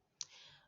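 A single sharp mouse click on a computer, one brief close transient followed by faint room hiss, with no talking.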